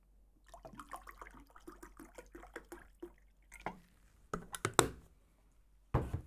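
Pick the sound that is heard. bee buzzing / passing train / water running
water running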